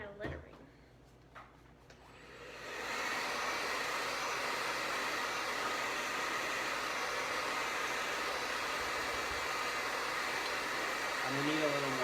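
A hair dryer blows on wet paint. After about two seconds of near quiet it switches on and holds a steady, close whooshing roar to the end.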